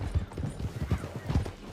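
Horses gallop in Red Dead Redemption 2, a steady rhythmic clip-clop of hooves pounding close and loud throughout, with a faint whinny mixed in.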